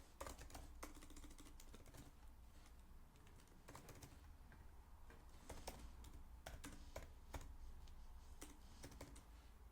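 Keys clatter as card details go in on a computer keyboard, quick irregular bursts of taps with short pauses between them, close and fairly quiet, with no voices.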